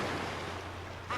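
Rushing, surging water from the shockwave pool in the GameCube game Mario Party 4, a steady wash of wave noise with a swell building near the end.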